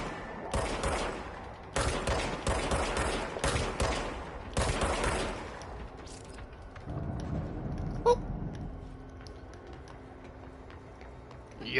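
Gunshots in a video game ring out in several loud bursts of rapid fire, separated by short gaps. The bursts fade into quieter ambient game sounds and a few scattered clicks.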